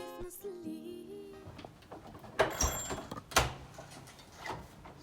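A door being opened at night in a home, a few knocking and clattering impacts of wood and latch standing out alone over a quiet background, one sharp thump near the middle of the sequence.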